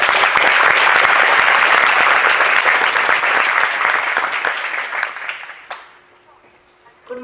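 A commencement audience applauds to welcome a speaker to the podium, dense sustained clapping from a large crowd that fades out over several seconds into a quiet room.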